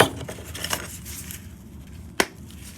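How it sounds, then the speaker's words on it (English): A scored faux brick veneer panel piece is snapped apart by hand, a single sharp crack close up after a stretch of quiet handling noise, no voices. "and snap it. It breaks right apart."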